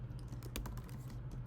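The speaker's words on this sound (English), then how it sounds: "I will hit the return key on my keyboard to send it" Quiet keystrokes patter on a computer keyboard, ending with a press of the return key, a soft run of clicks heard close up with no talking.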